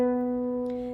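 Plucked harp C strings ring out in octaves with the pedal set to its highest position, a clear sustained tone that slowly fades on its own.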